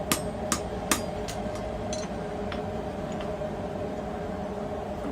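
A hammer strikes forging tongs on an anvil, giving a few sharp metallic rings in the first second, then softer, fading taps over a steady background hum.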